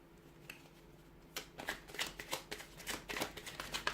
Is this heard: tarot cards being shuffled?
yes